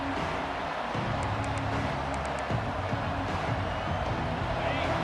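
Steady stadium crowd roar in the EA Sports College Football 26 video game, a dense wash of noise under a play-by-play commentator talking throughout.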